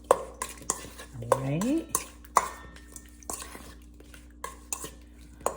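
Spoon stirring a homemade healthy salad in a bowl after salt is added, a few sharp scraping clinks and rustles under brief talk in a kitchen.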